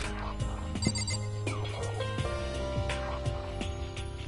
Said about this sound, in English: Hang on real quick, getting a phone call.